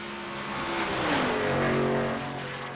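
A race car in a racing video game sweeps past at the finish line of the Talladega Nights 185, its engine note rising then dropping in a clear Doppler pass, loud and close, with no voices.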